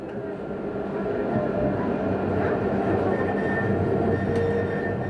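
A tramway rolling along an Algerian street, a steady loud rumble of wheels on rails with faint squeals, continuous and close throughout.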